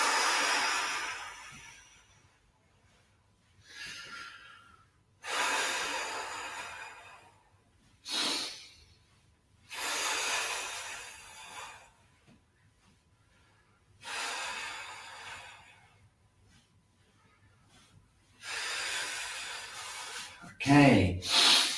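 Slow, deep breaths during a qigong exercise, each a soft airy rush lasting one to two seconds, separated by quiet pauses and repeating about seven times, close and clear with no talk over them.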